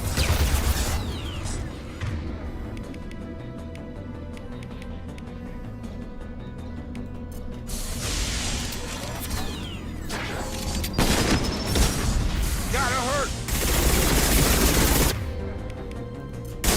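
Mass Effect 2 Legendary Edition combat with gunfire and grenade launcher blasts: sustained shooting with sharp bursts and heavy booming hits that grow denser toward the end, no talking.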